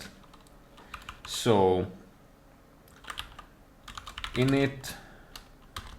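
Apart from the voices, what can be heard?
computer keyboard typing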